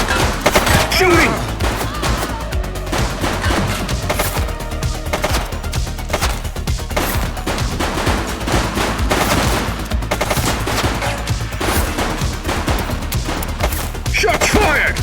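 Gunfire in the police game The Precinct, dense bursts of rapid shots and automatic fire rattling continuously for the whole stretch, loud and close, with occasional voices in the mix.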